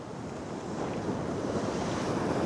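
Ocean surf crashing onto a beach where someone is fishing from the shore, a loud, steady wash of breaking water and wind noise with no voices.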